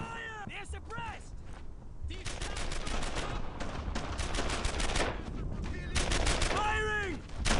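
Sustained rapid gunfire in the Brothers in Arms: Earned in Blood game during a firefight in a German-occupied French village, dense automatic bursts with shouted soldier voices before and between the volleys.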